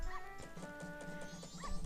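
Dog yips, whimpers and barks from Majora's Mask, short repeated yelps over a tonal game music bed.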